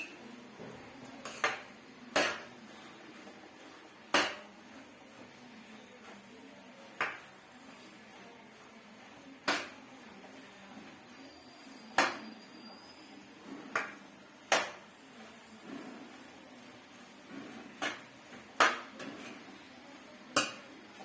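Grated carrots for gajar halwa being stirred and roasted in a pan, a spoon scraping and knocking against the metal in irregular taps every second or two, close and moderately loud over a low background hiss.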